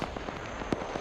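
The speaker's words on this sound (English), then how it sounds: "He fired a smoke round at me!" A smoke round fired in a military video game, heard as a sharp pop among faint crackling bursts in a quick scatter over a steady noisy backdrop.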